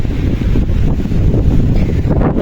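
Strong wind gusting across a dusty Mount Merbabu trail at Watu Lumpang, a loud, steady low roar buffeting the microphone with no pause through the whole stretch.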